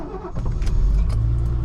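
A vintage Mercedes-Benz W116 280SE S-Class starts on the first try, then settles into a loud, steady low engine rumble with a few brief clicks and rattles on top.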